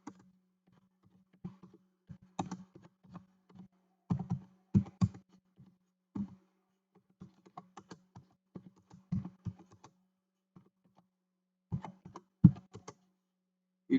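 Keys on a computer keyboard are typed while HTML code is written, sparse clusters of close, crisp clicks and taps separated by quiet pauses, with no talking.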